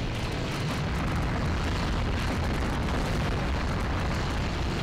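A dense, continuous roar of explosions in the video game Monster Attack, loud and unbroken, like blasts from powerful weapons rumbling together.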